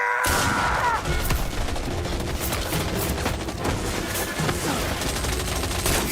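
A loud volley of gunfire erupts in Indiana Jones and the Great Circle, many guns firing at once in a dense, sustained crackling barrage that starts abruptly after a brief silence and keeps going to the end.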